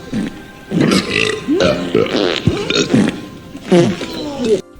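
Comic fart noises in a 1996 X-Men movie scene, Generation X, come as a string of short, loud, wet, burbling bursts at close range.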